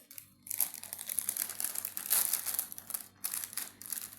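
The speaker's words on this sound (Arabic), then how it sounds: "يلا يلا افتح بقى الكيس" A plastic bag being opened at a breakfast table, loud close crinkling in several bursts separated by short pauses.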